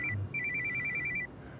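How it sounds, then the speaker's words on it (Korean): A telephone rings in short electronic trills during a live public broadcast, a rapid warbling ringtone that repeats for about a second before cutting off, heard clearly with no talk over it. "이렇게 또 진상 떨고 있으면 전화가 온다고 황금이한테"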